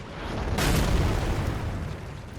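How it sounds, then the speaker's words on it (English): A golem archer in Elden Ring looses a single heavy shot near the Rauh Base area, landing as one loud, deep boom that swells quickly and then rumbles away. "we're gonna get the golem archer that's gonna shoot at us"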